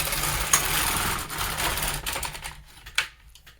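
A knitting machine carriage is pushed across the needle bed to knit one row of a hemmed-brim hat, a rattling, clattering mechanical run that fades out partway, followed by a couple of sharp clicks.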